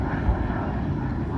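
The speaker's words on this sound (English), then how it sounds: "Another plane. That one is an ERJ 145 going to Knoxville." An ERJ 145 regional jet passes at Charlotte airport with a steady, broad engine roar that holds near and loud throughout, with no voices over it.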